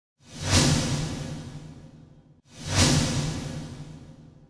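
Two identical rising whooshes, each with a bright sparkle layer over hall reverb, surge to a peak and then decay smoothly, one after the other and loud and close.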